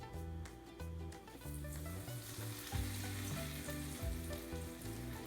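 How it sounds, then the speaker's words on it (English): Chicken cutlets frying in oil in a pan, a loud steady sizzle with crackling spatter, close up and continuous, with music playing underneath. "Careful, because it splatters kind of a lot when you're cooking in oil."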